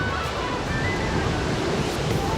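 Surf washes steadily against the Camps Bay shore in Cape Town, a continuous broadband roar of ocean waves with some wind buffeting the microphone, no distinct breaks, close and fairly loud.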